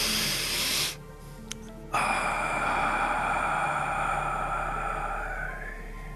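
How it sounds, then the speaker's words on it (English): A slow, deep breath drawn in through the nose during a guided sunset breathing session, a steady airy inhale heard close against a soft background tone, preceded by a brief hush. "Nice deep breath into the nose"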